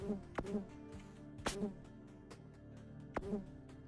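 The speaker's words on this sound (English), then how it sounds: "another killer bee" Killer bee enemy in the Golden Krone Hotel video game, faint game buzzing under a repeated series of sharp clicks and short tonal blips that recur every second or so.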